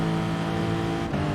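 A racing car in a racing video game accelerates hard, its engine a loud, steady, buzzing drone with dense harmonics and a brief dip near the end.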